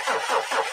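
A car engine cranks in a radio ad, a brief pulsing starter whine with a rhythmic churn that does not catch.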